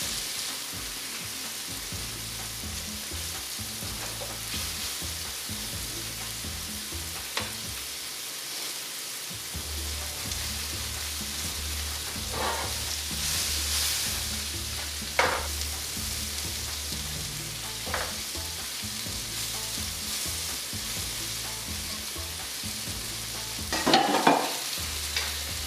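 Steady frying sizzle of chicken pieces browning in a pan, with occasional scrapes and knocks as the pieces are turned, continuous and close, no talking.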